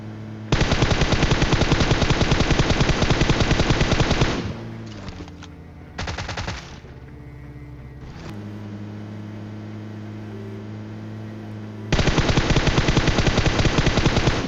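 Automatic weapon fire in the mobile battle royale game PUBG Mobile: long, dense bursts of rapid gunshots, broken by a short pause and a brief mechanical rattle, then another loud sustained burst.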